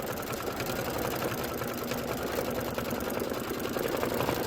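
A Kimberbell embroidery sewing machine stitches a hat tack-down line with a rapid, even, mechanical whir and needle chatter, steady and close throughout, with no talking.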